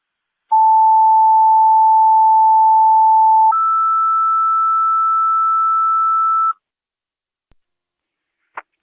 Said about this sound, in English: Second set of tones for the call 485 Waterford Place